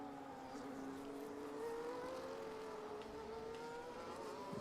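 Racing car engines drone steadily through a sim racing league round at the Netherlands circuit, with a rising harmonic whine as cars leave a corner and accelerate along a straight, loud and continuous with no talk.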